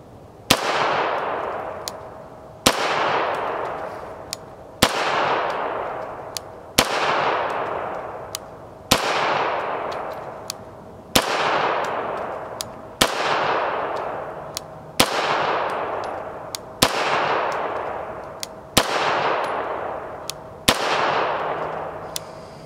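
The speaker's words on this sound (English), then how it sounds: "At the range, we put 500 rounds through the pistol with no malfunctions, which I was expecting from the Beretta." A Beretta M9A3 9mm pistol fires slow, evenly spaced single shots at a range, about a dozen loud sharp reports, each ringing out in a long decaying echo, with no voices.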